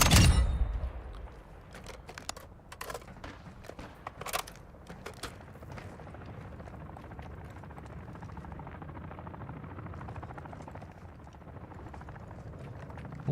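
Gunfire crackles in a Call of Duty DMZ match, a flurry of sharp shots early on that thins out beneath a steady helicopter-like drone and mechanical rumble, no voices.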